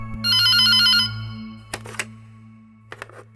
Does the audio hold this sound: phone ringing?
yes